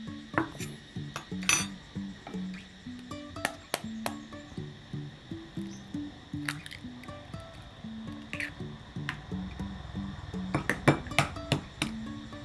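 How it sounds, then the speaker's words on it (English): Eggs being mixed with other ingredients in a bowl for a Thai omelette, soft wet squishing and clinking taps of a utensil against the bowl in an irregular rhythm, close and fairly quiet. "And now let's mix everything with eggs."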